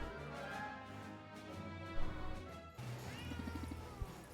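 Cats meowing in the video game Potionomics, several short mewing calls rising over a busy layer of game music and clatter, fairly quiet overall.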